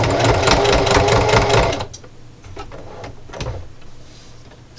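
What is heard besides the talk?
sewing machine stitching a jar opener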